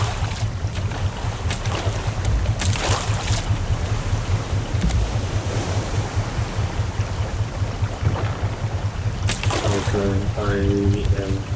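A raft's engine chugs steadily in the survival game Raft, with water and wind washing around it the whole time, and a voice speaks briefly over it near the end.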